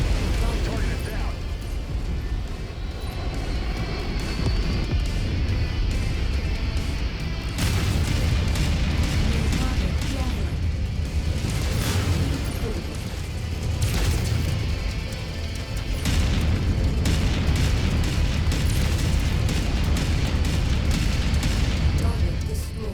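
Mechs blowing apart in the MechWarrior 5: Mercenaries game, with heavy booming explosions over a constant loud rumble of combat, and a voice talking over it.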